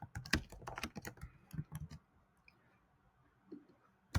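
Quick bursts of computer keyboard typing, close and crisp, a run of keystrokes for about two seconds followed by near silence with a couple of faint clicks.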